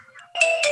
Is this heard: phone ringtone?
yes